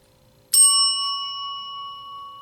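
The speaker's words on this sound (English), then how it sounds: "I have my own isekai bell now" A small bell rings once, a single clear bright strike that sustains with a long, slowly fading ring in a quiet room.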